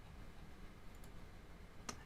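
A single sharp mouse click on a save button, faint and close, over a low steady background hum with a couple of tiny ticks just before it.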